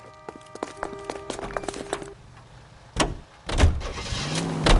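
Car doors clunk shut and an engine starts and pulls away in a Los Angeles–set detective video game, with scattered thumps and footsteps first, then a rising engine rumble that builds toward the end.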